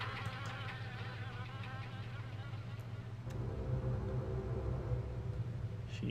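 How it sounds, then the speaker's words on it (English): Wasps buzz inside cabinets in the video game Harvester, a steady droning hum that swells and grows denser partway through, with a voice speaking over it. "From the sound, these cabinets are infested with wasps."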